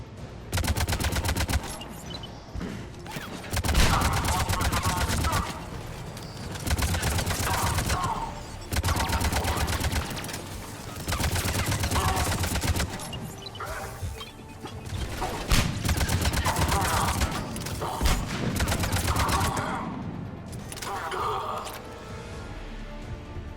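Sustained machine gun fire in the video game Mass Effect 3, loud rapid bursts in several long stretches separated by short pauses, with booming impacts and a voice speaking now and then.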